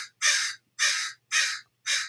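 A neighborhood crow gives four loud, harsh caws in steady rhythm, each about a third of a second long with short gaps, close by and alone.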